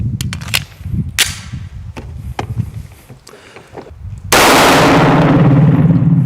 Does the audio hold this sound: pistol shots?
yes